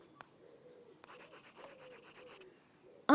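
A pencil or crayon rubs and scratches across paper in a series of short strokes, close and fairly quiet, ending with an abrupt louder sound in an audio story for children.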